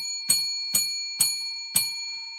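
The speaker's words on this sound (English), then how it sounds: "I'm going to ring the bell" A bell is struck four times at an even, unhurried pace, each ring bright and sharp, then decaying with a lingering metallic tone.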